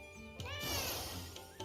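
A cat in Fate/Samurai Remnant lets out one drawn-out, rising meow that stays loud and clear over faint in-game background sound, followed by a quieter chirp near the end.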